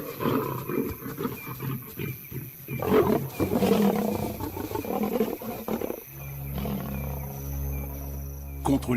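White lions snarl and roar in a fierce fight, rough bursts close and loud, then giving way to a lower steady rumble near the end.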